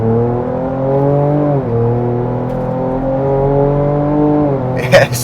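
A 2024 Ford Ranger Raptor pulls hard in sport mode, its engine note holding a steady strong drone with a brief dip like a gear change, loud from inside the cab, ending with a short clatter.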